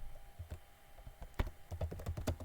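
C++ code being typed on a computer keyboard, quick soft key clicks in irregular bursts, close and quiet, with no talk.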